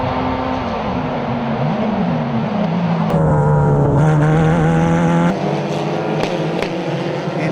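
Open-wheel F4 race cars circling Road America, several high-pitched engines whining and shifting loudly at close range, one car's pitch dropping and rising again as others pass.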